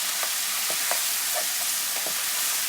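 Frozen tomatoes are stirred into onion masala frying in a pan, making a loud, constant sizzle broken by several short scraping stirs across a few seconds.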